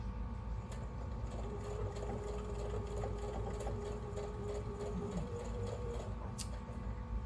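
A sewing machine stitches steadily through quilt fabric, its motor whirring in a fast, continuous mechanical rhythm. The sound is close and even throughout, with no talking.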